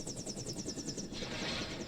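A helicopter-like mech flies in the FFXIV video game, giving off a rapid, regular rotor-style whir that pulses steadily, then gives way to a broader hiss partway through.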